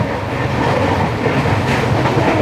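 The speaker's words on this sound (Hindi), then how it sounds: "करीब 105 से 107 किलोमीटर पर आवर की स्पीड में हमारी जो ट्रेन है वो फिलहाल चल रही है अभी" Jodhpur Jaipur Intercity Express rolling at about 105 to 107 km/h past millet fields at evening, a steady loud rumble of wheels and carriages with faint rhythmic clatter throughout.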